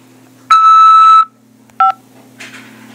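An automated prison collect-call phone system sounds a long, loud electronic tone, then a short, sharp beep after a pause, heard alone over a quiet line.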